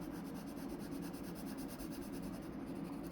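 A pencil shading strokes on a caricature drawing makes soft, close, rhythmic scratching that repeats steadily throughout, faint and alone.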